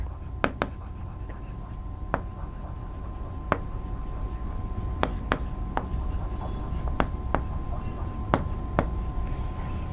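Writing on a board during a biology lecture, a continuous faint scratching of strokes punctuated by scattered sharp taps as the writer starts and ends marks, over steady room noise.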